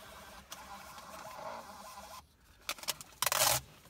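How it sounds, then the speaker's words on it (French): A taximeter's receipt printer runs after its print button is pressed: a steady low whirr, then a few quick clattering bursts and a louder ratcheting feed near the end, close by with no talking. "Vous appuyez sur le bouton numéro 3 et l'imprimante se met en route."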